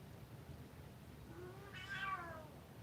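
A cat gives a single meow in a fairly quiet room, the cry rising briefly over low background hum, moderately close and alone without talk.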